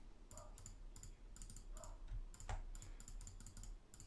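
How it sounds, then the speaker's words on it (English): Quick, light clicks in short irregular bursts come from a mouse used for Photoshop retouching, alongside keyboard taps. The sound is close and quiet in a still room, with no talking. "So it's kind of lots of clicking"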